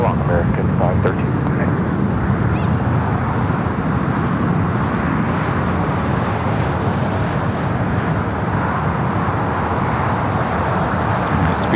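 A British Airways Boeing 787 Dreamliner from London Heathrow touching down on runway 25L at LAX, a steady loud broadband jet roar with constant airport and traffic noise throughout, no close talking.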